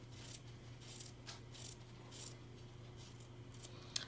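Soft, close scissors snipping through quilting fabric and interfacing around a table runner piece, a steady run of quiet cuts over low background hum.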